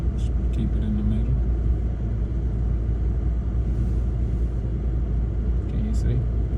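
A sports car driven by a 10-year-old rolls along, its engine giving a steady low rumble with no revving, heard from inside the cabin while people talk over it.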